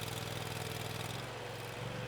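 A pedestrian trencher's engine runs at a steady, close drone with a buzzing hum and no change in pace.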